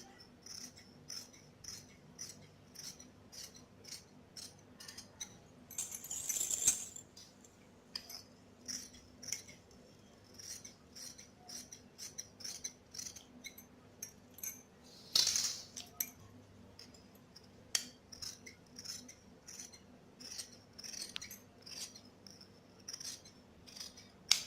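Scissors snip through blouse fabric for a princess-cut blouse in a quiet room, the blades closing in a steady run of light, crisp cuts with a couple of louder rustling bursts.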